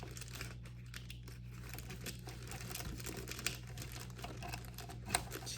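A circle is cut out of tough model rocket material with close, crinkly crunching and snipping. The crackle runs continuously, with a few sharper clicks, and no one speaks.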